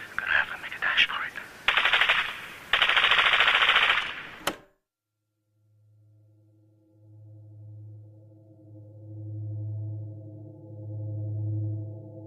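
Loud bursts of automatic gunfire rattle in quick volleys for several seconds, then cut off abruptly, followed by a low droning hum with steady tones.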